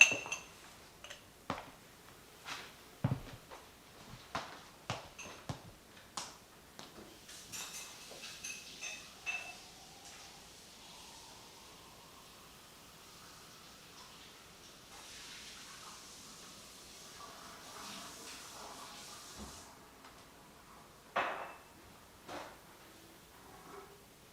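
Glassware and utensils clink and clatter at a bar while a cocktail glass is rinsed and washed, with a stretch of running water in the middle; sharp close knocks come in irregular bursts, with no talk.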